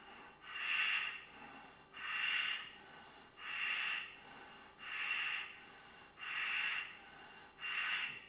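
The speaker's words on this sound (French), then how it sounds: "Toujours le frottement dans la gorge" Hatha yoga breathing with friction in the throat: six slow, even hissing exhalations at a steady rhythm of about one every 1.4 seconds, close and soft, with quiet pauses between and no talk.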